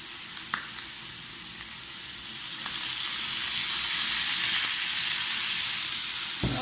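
Skinless chicken fries in oil in a pan, sizzling continuously and swelling louder partway through into a dense, steady hiss with a few sharp crackles.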